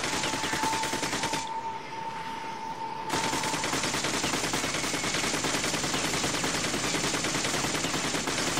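Gunfire from the video game The Darkness comes as rapid, sustained automatic bursts. A brief quieter lull breaks the firing before it resumes loud and continuous, with no voices.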